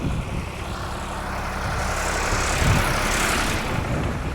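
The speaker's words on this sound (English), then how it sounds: "Wait for this lovely tractor." A tractor passes by outdoors, a loud continuous engine rumble and drone that swells slightly as it draws nearest, then holds steady, with no talk over it.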